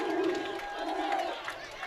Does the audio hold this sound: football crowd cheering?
yes